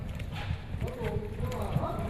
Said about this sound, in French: Pour cette dernière répétition, chevaux et cavaliers enchaînent les tours de piste, encore et encore